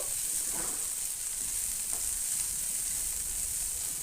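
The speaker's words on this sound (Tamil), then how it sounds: "தக்காளி இந்த மாதிரி வதங்கி வந்துடுச்சு." Tomato softens in a hot pan for a carrot, bean and egg poriyal, sizzling in a steady, close hiss broken by a couple of soft stirring scrapes.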